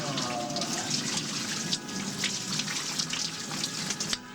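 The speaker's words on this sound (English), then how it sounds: "But I'm staying here, taking a nice, long, hot shower" A steady rush of running water pours continuously from a hot shower, broadband hiss with small splashy spikes, close and fairly loud.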